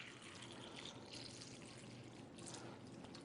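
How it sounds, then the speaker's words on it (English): Tap water pours steadily over fresh tomatoes in a container during a taste-test demonstration at a masquerade ball, a soft, continuous wash of splashing with no voices. "we're just going to simulate that by pouring some tap water in here"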